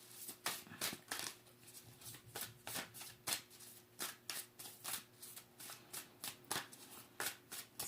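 Tarot cards shuffled in steady, rapid riffles, each pass a soft papery burst in a regular rhythm, close and quiet with no talking.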